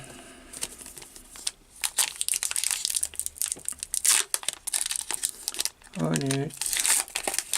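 Pokémon booster pack foil crinkles and tears in bursts of sharp rustling close by, with a person speaking intermittently over the handling.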